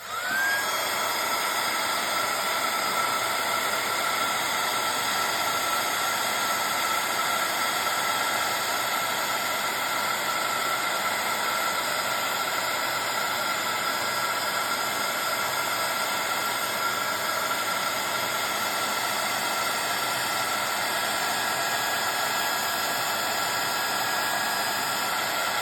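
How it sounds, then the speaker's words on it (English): Heat tool blowing hot air to melt Distress embossing powder, a loud, continuous whirring hiss with a steady motor whine that holds unchanged for the whole stretch, with no talking. "Heat tool. Here we go."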